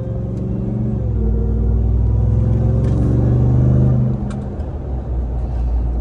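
A supercharged HELLCAT Ram TRX pickup idles and revs with a loud, close engine rumble that swells in the middle and eases off, with a faint supercharger whine on top.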